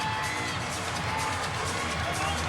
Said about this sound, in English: The crowd erupting.